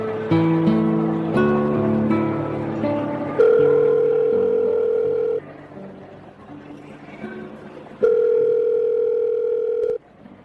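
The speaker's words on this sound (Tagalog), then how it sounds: "Inilabas ko ang cellphone ko saka ako tinawagan si Jude" A cellphone call tone repeats loudly after a few opening musical notes, with long steady beeps separated by a short pause, heard alone before anyone talks.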